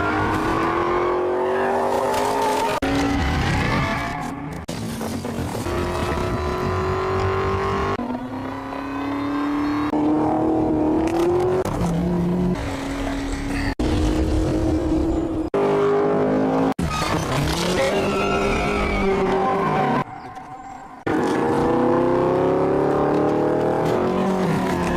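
A car engine roars loudly and continuously from a video being played back, its pitch rising and falling through repeated revs and gear changes.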